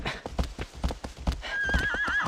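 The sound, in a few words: horse neighing and hooves in video game Shadow of the Colossus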